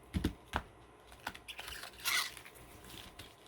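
Booster packs of Time Spiral Remastered cards being shuffled, with quiet crinkling foil rustles, soft taps and a brief louder crackle, close and faint.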